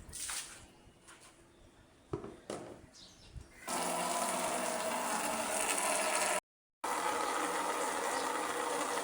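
An automatic washing machine starts up with a few mechanical clicks and clunks, then settles into a steady loud rushing of water filling and churning the drum, close by, with no talking.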